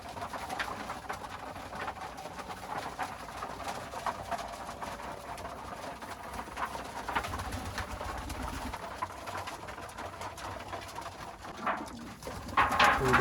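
Pigeons coo softly and repeatedly inside a freshly cleaned pigeon coop, low throaty calls overlapping against a quiet background, growing slightly louder near the end.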